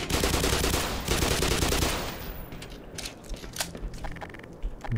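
Dense, rapid gunfire crackles loudly in Black Mesa, a steady burst of pistol shots for about two seconds, then scattered clicks and mechanical clatter of the weapon continue.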